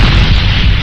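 Ice platform blown apart in Spyro: Enter the Dragonfly, a loud, deep sustained boom rumbling through the whole moment with no voices.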